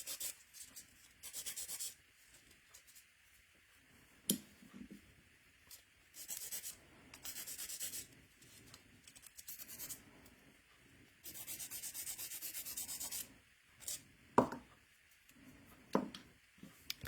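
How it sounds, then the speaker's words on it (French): Rubbing and scraping as a file scuffs the sides of a fingernail before gel goes on, in repeated short bursts of close, dry rasping with brief pauses between strokes. "Je m'en viens graffiner mes côtés."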